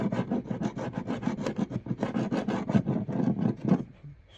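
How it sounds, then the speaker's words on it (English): A chisel scrapes rhythmically across a damaged poly boat surface in a rapid series of close, gritty rasping strokes that stop just before the end. "scrape it off with a chisel or whatever"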